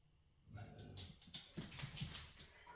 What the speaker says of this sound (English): my dog's growling at something.